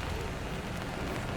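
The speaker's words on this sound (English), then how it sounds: "Just coming on as the rain's coming down" Steady rain pours down at an outdoor torch relay event, a dense continuous patter that stays even and fairly close throughout, with no pauses.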